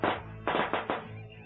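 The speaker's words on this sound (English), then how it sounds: "pay no attention to the firecrackers in the background" Firecrackers going off in the background: four sharp, muffled bangs in quick irregular succession, each decaying briefly, with no voices.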